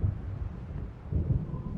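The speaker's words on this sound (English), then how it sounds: "It seems there's a storm coming." A thunderstorm approaches in Alan Wake Remastered: low, rolling rumbles of distant thunder mixed with wind noise, faint and continuous across the short stretch, with no voices.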